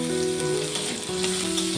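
Goat fat sizzles in a hot cooking pan with a steady, crackling frying hiss, close and continuous, with no voices.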